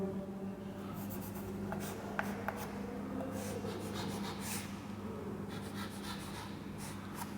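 Marker strokes squeak and scratch across a board while a circuit diagram is drawn, a run of short, faint rubbing bursts over a steady low electrical hum, with no talking.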